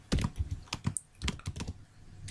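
Code is typed on a computer keyboard in quick uneven bursts of close, crisp key clicks, a dozen or so strokes with short pauses between them and no talk.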